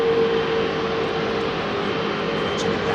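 A Virgin Atlantic airliner at Heathrow Airport gives a loud, steady engine roar with a constant tonal whine, close by and unbroken.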